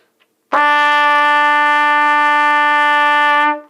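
A single sustained trumpet note E, played with valves 1 and 2, with a bright, steady tone, held for about three seconds before stopping cleanly; no other sounds.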